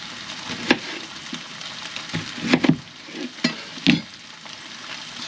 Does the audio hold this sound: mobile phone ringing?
no